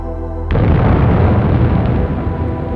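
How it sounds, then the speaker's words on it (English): Explosion of a vast hydrogen gas cloud: a low hum breaks at once into a huge, loud blast that keeps roaring and rumbling for over two seconds. "The megacloud would have exploded, creating a huge fireball"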